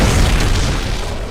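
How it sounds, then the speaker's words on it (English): A radio tower collapses in the Overwatch 2 video game, setting off a dense, loud, low booming explosion that rumbles continuously and eases slightly toward the end. "The damaged frame of the radio tower has given out under the additional weight, leading to an explosion"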